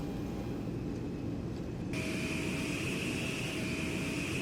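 A jet airliner rolls along the runway after landing, a steady broadband engine roar with a high whine that brightens partway through as the engines spool up, continuous and close.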